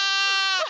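Single short bleat from a one-month-old lamb, close and clear, a bright wavering cry that drops off abruptly at the end.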